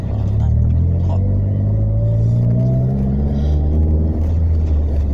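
Car driving along a rough concrete road in Kecamatan Kelari at around 50–60 km/h: a loud, continuous low rumble of engine and tyre noise with a faint rising hum, steady throughout with no pauses.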